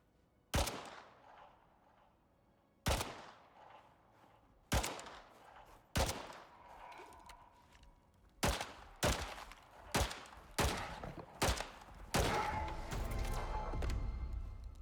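Gunfire from the Styx video game as a creature is shot: loud sharp shots spaced irregularly, a few quick pairs, then denser firing at the end, with no talk.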